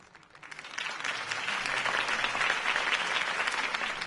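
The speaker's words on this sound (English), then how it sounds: "If only Mr. Wayne, my campaign's largest backer, could have heard that applause" Applause from an audience after a campaign speech in a Batman game, swelling in after a quiet start and holding as a steady, dense clapping for several seconds.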